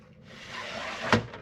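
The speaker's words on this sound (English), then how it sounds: "It slides all the way closed now" The slider on an ONNAIS W008 smart lock on an RV door slid closed, a short close smooth scraping glide that ends in a distinct click.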